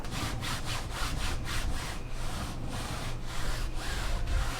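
A computer mouse is dragged back and forth across the rough Cordura surface of a Fantech MPC 900 mousepad. It makes a steady, close rasping scrape in repeated strokes, like light sawing, with no voices.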